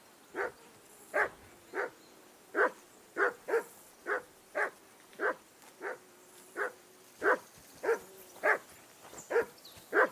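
Repeated dog barking in Kingdom Come: Deliverance II, loud and close, with about eighteen sharp barks at a steady, slightly irregular rhythm over a quiet background.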